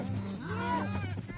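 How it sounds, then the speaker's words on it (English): Minecraft cows on a game cow farm give a single drawn-out low moo that swells and fades, heard alone and fairly quiet. "All these stinking cows that we've been farming"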